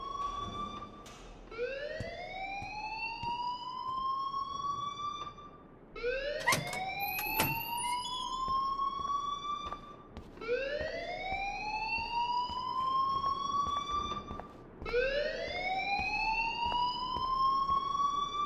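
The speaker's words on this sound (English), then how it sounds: "please turn off that alarm since that's your job" Alarm in Life is Strange: a loud, rising electronic whoop sweeps upward, then cuts off and restarts, four cycles at a steady rhythm of roughly four to five seconds each.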